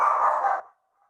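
A pet dog gives a single short, close bark with a slightly drawn-out tone that stops abruptly, followed by near silence and a faint trailing whimper.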